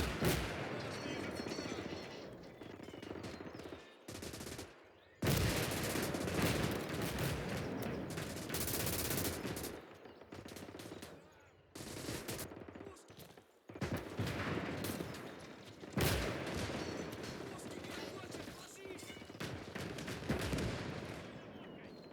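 A squad fires automatically in the video game Call to Arms: Gates of Hell, with dense rifle and machine-gun bursts mixed with heavier artillery booms. The shooting is loud and continuous, with short lulls, and a voice talks over it at times.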